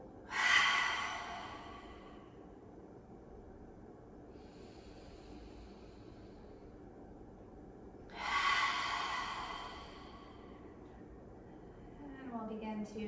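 Two slow, deep breaths drawn in through the nose during a calm breathing exercise, each a soft airy rush separated by long quiet pauses, close and gentle.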